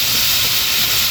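Covered pot of chopsuey boiling on the stove, a loud, steady, close hiss of escaping steam without break.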